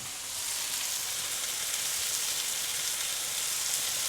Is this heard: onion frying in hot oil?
yes